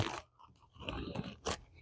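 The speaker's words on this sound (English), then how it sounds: "it is like little crispy, crunchy balls of tobacco" Crispy, crunchy little balls of Manille Simoise Reserve du Patron pipe tobacco from 2020 being handled close up, giving a few brief dry crunches and crackles with short pauses between them.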